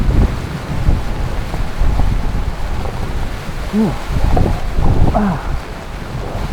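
Typhoon Maymay's wind buffets steadily against a tent in the Benguet highlands, with rain mixed into a constant roaring rush and voices talking faintly underneath.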